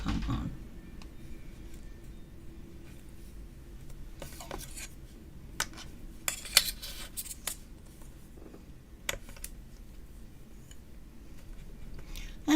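Knife chopping food on a board for a St. Patrick's Day dish, a run of sharp scattered cuts over steady low background hum, with a couple of louder clustered strikes in the middle.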